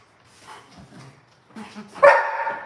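A dog gives soft, close whines and yips that build into a single loud, sharp bark near the end.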